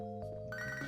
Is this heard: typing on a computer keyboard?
no